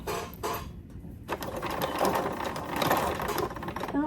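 A home sewing machine stitches a waistband onto a small doll skirt, a fast continuous mechanical whir with brief pauses and starts near the beginning, close and moderately loud.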